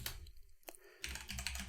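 Rapid keystrokes on a computer keyboard, close and crisp, with a brief pause mid-clip before the clicking resumes in a quick burst; no voices.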